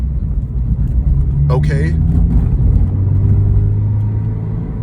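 A Subaru BRZ/GR86 with a 6-speed manual pulls away in first gear and is shifted at 3,000 RPM: a steady, close engine rumble inside the cabin while someone talks over it.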